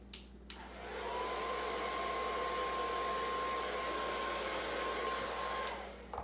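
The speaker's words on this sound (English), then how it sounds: "Or you can kind of blow dry while it's sitting on the wig stand as well." A hair dryer blows steadily on a wig sitting on a wig stand, starting after a brief pause, holding a constant loud whooshing drone with a faint high whine for about five seconds, then cutting off.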